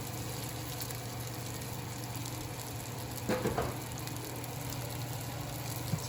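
Buñuelos frying in hot oil, a soft steady sizzle with a brief clatter midway, faint and close, with no talking.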